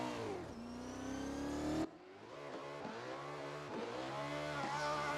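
A drift car's engine revs hard on the track at Anglesey during qualifying, a loud sustained rising roar that cuts briefly, then climbs again through bouncing rev changes, close and continuous with no voices.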